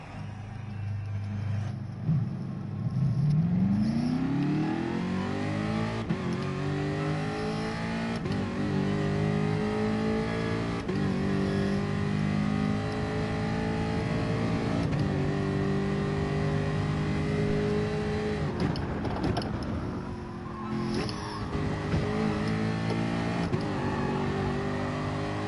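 Race car engine in Gran Turismo Sport revving and shifting through gears with rising and falling pitch, loud and continuous throughout with no talk.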